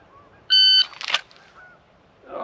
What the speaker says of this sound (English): I'm going to warm up with a couple of dry fire draws with the timer